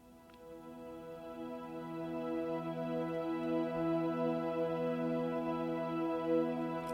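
A soft OB synth pad drone in the key of E, treated with reverb and EQ, swells in gradually and holds steady as a quiet, sustained chord with no voice.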